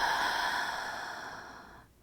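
A long, audible exhale during a yoga breathing exercise, one close, airy breath that slowly fades out over about two seconds.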